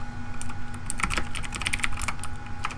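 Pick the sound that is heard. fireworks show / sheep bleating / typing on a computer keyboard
typing on a computer keyboard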